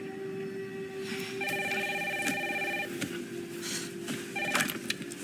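A telephone rings in a house during heavy rain, sounding as two bursts of bright electronic trilling, the second shorter, over a steady background hiss of rain.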